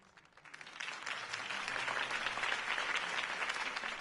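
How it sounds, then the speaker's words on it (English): Crowd applause in the Telltale Batman video game, a steady wash of many hands clapping that swells after a quieter start and holds loud and dense to the end. "If only Mr. Wayne, my campaign's largest backer, could have heard that applause"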